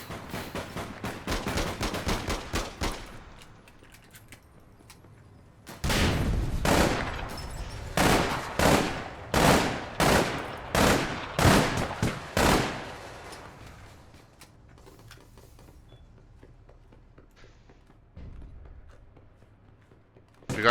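Gunfire from a long-range gun in the video game APB Reloaded: a rapid rattling burst, a pause, then a series of about ten loud evenly spaced heavy shots, followed by quieter background game noise.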